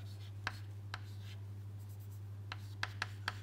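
Chalk or marker taps and strokes on a board during a combustion lecture, a series of short sharp marks spaced irregularly, moderately close, over a steady low hum with no talking.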